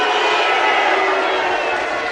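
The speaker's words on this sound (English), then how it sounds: "the packed capacity crowd here at the Civic Hall, Solihull. Not happy about that first fall" A packed capacity wrestling crowd at the Civic Hall, Solihull, reacting to the first fall: a steady, loud roar of massed voices, unbroken and indoors, with no single voice standing out.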